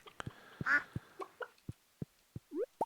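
Ducks in a farming video game quacking in a busy scatter of short calls, interleaved with sharp clicks and pops, close and clear.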